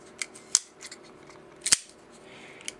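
Kershaw Cyclone folding knife blade being flicked open, a few sharp metallic clicks and snaps spaced irregularly, close and crisp against quiet background.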